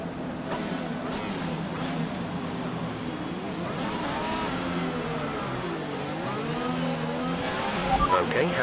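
F1 race cars in the F1 2021 video game rev and pull away together at the race start, sweeping engine tones rising and overlapping, loud and continuous with a voice speaking over them.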